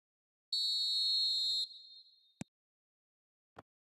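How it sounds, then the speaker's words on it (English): Referee whistle in the eFootball video game blowing one long steady shrill blast to start the match, followed by two brief sharp clicks in an otherwise quiet scene. "There's the whistle and here we go."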